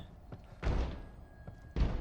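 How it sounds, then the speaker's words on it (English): Doors rattling in The Evil Within 2, a few dull thuds and knocks at irregular intervals, two of them heavier, set against a quiet, eerie game background. "Oh, the doors are spookily rattling."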